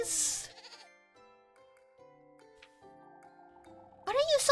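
A goat bleats loudly twice in a video game, a wavering cry at the start and another at the end, with soft sustained musical tones in between.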